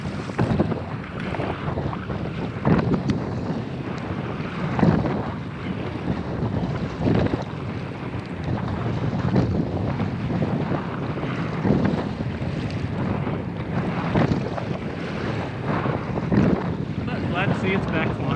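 Steady wind rush and buffeting across the microphone while paddling a Pungo 140 kayak on open water on a windy day, continuous and fairly loud throughout with faint splashes and occasional voice-like sounds underneath.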